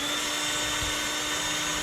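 Cordless drill powered by a new Amazon-bought battery, spinning in forward, a steady high whirring motor hum that stays constant and close throughout.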